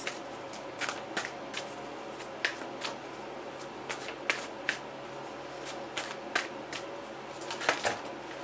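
Tarot cards being shuffled by hand, a steady run of crisp riffling flicks and snaps at an irregular rhythm, close and fairly quiet with no voices over them.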